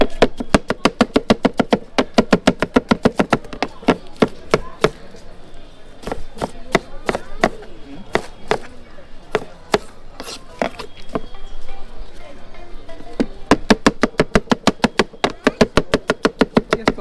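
Fast, steady knife chopping on a board while preparing jhal muri at a street stall, a dense run of sharp close taps that pauses briefly midway and then resumes at a quick rhythm.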